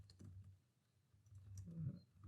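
Soft, scattered clicks of typing on a computer keyboard, faint and close, with a few louder thuds near the end.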